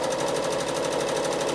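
A home sewing machine runs steadily, its needle pounding in a fast, even rhythm as it travel stitches across a large quilt, loud and close with no voices.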